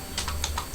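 Computer keyboard keys tapped out a few at a time as a website domain is entered, several crisp, separate clicks in an uneven rhythm, close and fairly quiet, with no talking.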